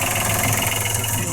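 Newly installed marine engine idling steadily after start-up, a continuous close mechanical drone with a faint knocking texture and broad hiss, loud and unbroken throughout.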